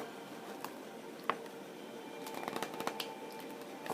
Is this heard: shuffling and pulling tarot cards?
yes